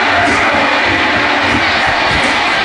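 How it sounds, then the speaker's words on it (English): A crowd in a wrestling video game roars and chants in a dense, steady wall of cheering, loud and unbroken from start to finish. "the crowd that is left, chanting for Samoa Joe"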